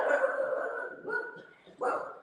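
A pet dog at home gives a couple of short barks and yips, fairly close and clear, with a brief pause between bursts.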